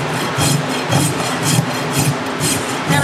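A farrier's rasp, fine side, drawn across a horse hoof to smooth it after a top-only trim, producing a steady run of rough scraping strokes at a regular rhythm, close and fairly loud with no talk.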